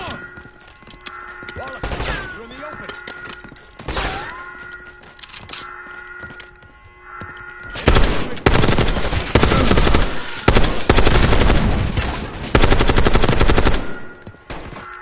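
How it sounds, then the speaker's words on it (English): Automatic machine gun fire in the video game Black Ops 6: scattered sharp bursts and thuds at first, then long, dense, loud volleys of rapid shots with occasional pauses, and a voice calling out between them. "Machine gun!"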